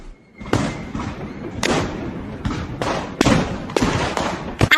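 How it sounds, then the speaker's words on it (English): Fireworks and guns go off in a rapid run of sharp bangs and thuds, some crackling, loud and close, one after another with irregular spacing. "Fireworks crackled and guns banged"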